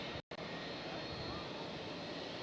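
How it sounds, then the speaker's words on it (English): Airliner jet engine spooling up at Amsterdam Schiphol airport, a continuous loud roar from a nearby plane, briefly cut by a short dropout near the start, then steady. "I don't know if you guys can hear her spooling up the engine as well"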